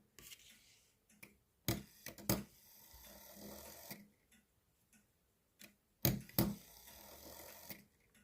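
A small, freshly cleaned and oiled Perfecta (Urgos) wall clock ticks quietly and evenly, with soft ticks heard close up and interrupted by a few louder handling knocks.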